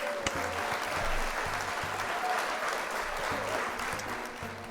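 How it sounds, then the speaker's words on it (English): A crowd applauds with dense, steady clapping that continues throughout, fading slightly toward the end. "Round of applause for Frostbite."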